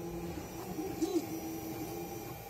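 A 3D printer with a stock hot end prints PETG, its stepper motors giving off a steady whining hum that shifts pitch in short moves, with faint mechanical ticks in the background.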